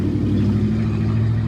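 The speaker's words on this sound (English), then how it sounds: "we had a big old truck just go by" Big truck passing close by with a loud, steady low engine rumble and drone that holds throughout, with no voices over it.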